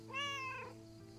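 A cat meows once in the video game Lake, a clear rising and falling cry lasting about half a second over a steady low background hum.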